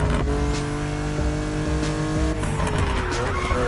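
Heavily modified cars race through night-time Honolulu streets in The Crew Motorfest, engines roaring loud and steady with tire squeals and skids cutting through the continuous racing din, no voices present.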